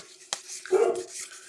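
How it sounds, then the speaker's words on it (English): A pet dog reacting indoors to a noise it took for someone breaking in, giving one short muffled bark or yelp at close range with no talk over it. "My dog went nuts."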